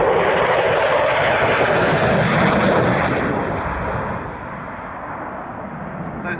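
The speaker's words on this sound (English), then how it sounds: "High speed pass now" Jet aircraft roaring past on a high-speed pass at about 580 knots and 100 feet, a loud, broad rumbling roar that holds for several seconds and then eases off as it recedes.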